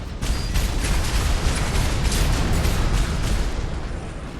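Missile explosions in Armored Core VI, dense overlapping booms and bursts forming a loud, continuous roar of blasts with no talking.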